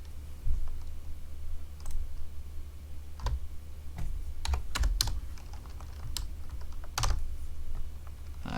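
Computer keyboard typing in short bursts of clicks and taps, a few louder isolated keystrokes among quicker runs, close up over a steady low hum with no talking.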